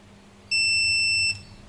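An Emax Tinyhawk 2 freestyle racing drone's onboard speaker gives one sustained high-pitched electronic beep of under a second when switched on, loud and close over a quiet room background.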